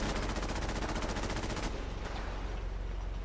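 Rapid automatic gunfire from a sentry bot in Fallout 4, a fast even stream of shots for over a second and a half that cuts off abruptly, leaving faint game ambience behind.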